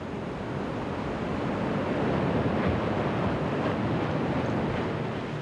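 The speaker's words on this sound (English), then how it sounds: "until the sea becomes too turbulent and too powerful to continue" Turbulent sea water surges and roars through a narrow opening on the Kimberley coast of Australia, a dense, continuous wash of surf noise mixed with wind buffeting the microphone, steady and loud.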